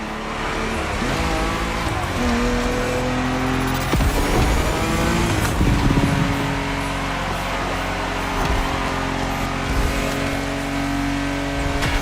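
A car driven hard in the racing video game The Crew Motorfest, with a revving engine climbing and dropping through gear shifts and tires squealing, loud and continuous, with no talking.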